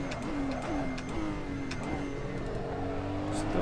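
A race car engine in the Assetto Corsa sim racing game drones loudly and continuously, pitch dipping and climbing through gear changes, close and unbroken with no speech.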